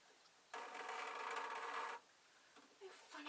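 A sewing machine stitches the lining of a trouser leg in one quick, buzzing burst of about a second and a half, followed by quiet with a few faint handling clicks.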